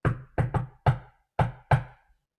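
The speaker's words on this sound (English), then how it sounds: "there was a knock on the door." Knocking on a palace door: six sharp raps in uneven groups, close and crisp, with nothing else heard.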